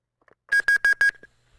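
Four short, loud electronic rings from a telephone on an incoming call, evenly spaced and close, followed by a faint tail and quiet.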